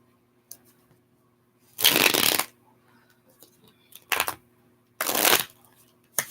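Deck of tarot cards being shuffled up close, three distinct riffling bursts separated by pauses and soft handling clicks, with no talk.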